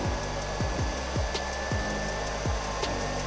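Battery-powered blower of a Tecmen TM 1000 PAPR welding mask running at a steady whine, with a thin high tone and a series of repeated short sweeping pulses as it ramps its speed, no speech.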